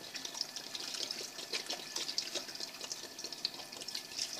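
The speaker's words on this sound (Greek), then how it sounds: "Wasser auffüllen" Water pouring steadily into a cooking pot to cover pieces of beef, a continuous splashing, gurgling stream close by with no talking.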